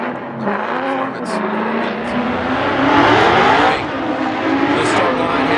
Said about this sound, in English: And that Borla exhaust.